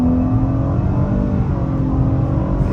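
A 2023 Nissan Maxima Platinum accelerating hard in first gear, its engine droning loudly and steadily from close by, with no one talking over it.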